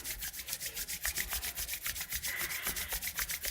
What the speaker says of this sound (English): we're going to rub your hands together, creating lots of friction